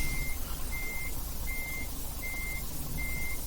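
A truck backing up with a trailer in Euro Truck Simulator 2 sounds five evenly spaced reversing beeps over a steady low engine rumble, no speech.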